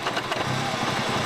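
A rebuilt SAAB engine running, a steady, close, loud mechanical drone with a fast pulsing beat and no voices.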